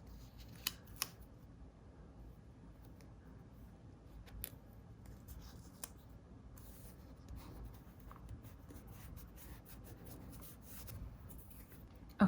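A pen writes in a paper planner with soft, faint scratching strokes that continue steadily, broken by occasional small clicks and taps in a quiet room.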